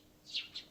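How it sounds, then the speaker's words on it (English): Two short, bright chirps from small birds outside a window on a summer morning in Steins;Gate, faint and alone against a quiet room hum. "I hear the tweeting of small birds outside the window"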